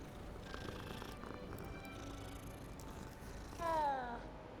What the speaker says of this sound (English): Look at the cat.